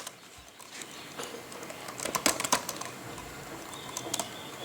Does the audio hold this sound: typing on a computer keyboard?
yes